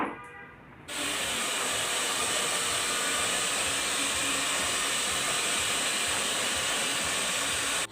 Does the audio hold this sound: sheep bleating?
no